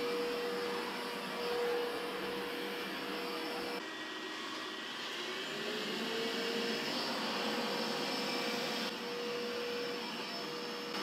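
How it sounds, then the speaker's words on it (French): A Dreame X50 Ultra robot vacuum runs on carpet, a steady loud whirring roar with a thin tonal whine that shifts pitch as its suction power rises, continuous throughout with no talking. "Il augmente, vous entendez, automatiquement sa puissance d'aspiration sur les tapis."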